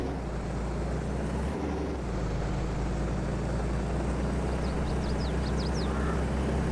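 A vehicle engine in Farming Simulator 22 holds a loud, continuous low drone the whole time. Faint high chirps flicker briefly near the end.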